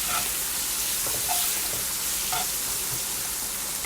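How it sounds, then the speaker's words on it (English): Onions fry in a pan toward caramelizing, a loud, steady close sizzle with faint spatters and stirring clicks scattered through, no voices. "Gonna throw some onions in there and get them all caramelized"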